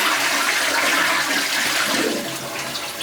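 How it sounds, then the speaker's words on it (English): A toilet flushes in a home bathroom after drain service, with loud rushing, churning water that holds steady, then eases slightly as the bowl refills; no voices are heard. "I'm just grateful it's flushing"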